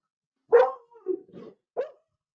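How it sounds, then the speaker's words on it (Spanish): A pet dog barks excitedly at a knock on the house door, giving a sharp nearby bark followed by a few shorter yips and a final bark, alone with no talk. "están tocando la puerta y se pone loca mi perra"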